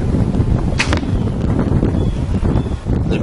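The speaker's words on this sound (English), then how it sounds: "when I shoot this arrow" A hunting bow is shot outdoors, and the arrow leaves with a quick twang and a short swish, heard against steady wind noise buffeting the microphone.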